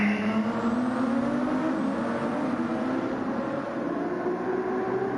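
A GT1 race car braking deep into turn 1 at Circuit Gilles Villeneuve, its engine droning loud and close with a steady rising pitch through the corner.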